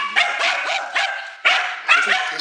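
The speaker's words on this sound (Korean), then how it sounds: "제작진 방문에 목청껏 짖는 녀석" A Spitz barks loudly at visitors arriving at the house, nearby, in rapid repeated bursts with yips mixed in.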